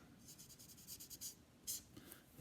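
Pen scratching across paper while a name is signed on a drawing, a quick series of soft strokes and short scribbles, close and quiet with brief pauses between them.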